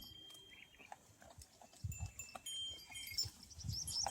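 Goats in a farmyard, with several short bleating calls rising over a low rumble and faint background noise, including louder bleats toward the end.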